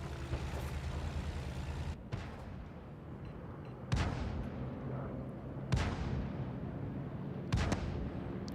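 Tank cannon fire in a World War-era tank video game, a UK tier 5 tank being shot at: a steady engine rumble with three sharp, loud gun blasts spaced about two seconds apart, each trailing off.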